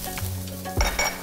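Onion sizzles in olive oil in a pan, a steady close crackle with a soft scrape of stirring and a light clink of a utensil against the cookware.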